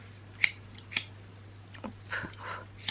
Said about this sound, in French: Voilà, je coupe en deux, je fais deux morceaux